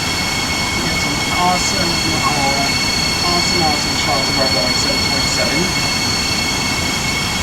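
Acela Express high-speed train from a rail simulator game rolls steadily through Princeton Junction Station, a continuous wheel and rail rumble with a faint high whine, while someone talks over it.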